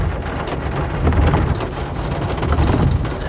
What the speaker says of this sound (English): It's so rainy here, can't really decipher it all.